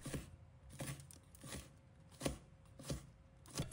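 Knife slicing bird's eye chili peppers into thin rings on a cutting board, six or seven soft, evenly spaced chops that are faint and close.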